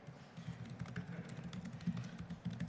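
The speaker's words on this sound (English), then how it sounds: "I'm really bad at typing" Computer keyboard typing at a programming conference session, a quiet run of irregular soft key taps continuing throughout, fairly close, with no talk.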